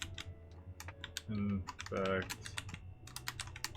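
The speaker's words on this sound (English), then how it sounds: "I'm typing because I think my speech to text is crashing" Typing on a computer keyboard, close rapid clicks of individual keystrokes in uneven bursts, with someone briefly speaking over them partway through.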